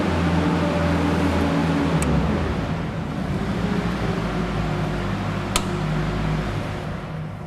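A boom lift running its steer function left and right during a function test, a steady loud engine and hydraulic drone with a low hum throughout and a couple of faint clicks.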